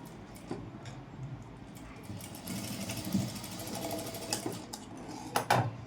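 A sewing machine runs steadily while stitching a dori onto a Panjabi dress top, a continuous whirring hum with a few sharper clicks near the end.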